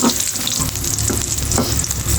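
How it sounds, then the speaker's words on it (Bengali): Chopped garlic frying in oil in a pan before red amaranth greens go in: a loud, dense, continuous sizzle with occasional stirring scrapes, up close and without talk. "তো সেই জন্য রসুন ফ্রাই করছি।"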